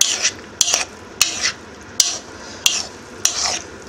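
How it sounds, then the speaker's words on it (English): Chopped smoked salmon tartare being mixed in a bowl, six evenly spaced scraping, clinking strokes of a utensil, close and fairly loud with no talk. "now we're going to mix it all up"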